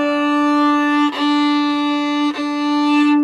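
A violin plays four sustained open D notes with a big, full tone, each bow change marked by a brief break as the long notes run into one another.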